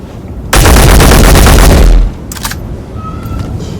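A rifle fired from a crouch in the video game Space Engineers: a loud, dense automatic burst lasting about a second and a half, close and booming, then a couple of faint clicks as it stops.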